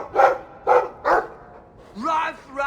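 A dog in Dragon Age 2 barks three times in quick succession, clear and close, followed by a short whining yelp.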